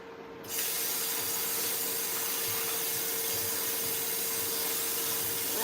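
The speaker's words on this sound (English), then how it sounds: "I'm steaming these vegetables." Vegetables steaming in a pot on a home stove let off a loud, steady hiss of steam that starts abruptly after a brief quiet moment and then holds constant, close and unbroken.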